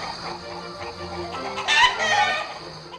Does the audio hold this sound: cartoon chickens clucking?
yes